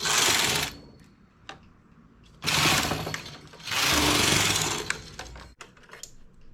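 A knitting machine works rows of a ribbed 3x2 bustier at tension setting 7: three loud, broad carriage passes sweep across, separated by quieter gaps with light clicks and taps, with no talking.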